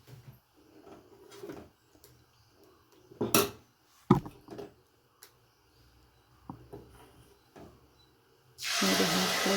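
Jackfruit dosa batter is ladled onto a hot pan that was oiled and rubbed with cut onion. A few soft utensil clinks and knocks lead into a loud, steady sizzling hiss that rises sharply at the end.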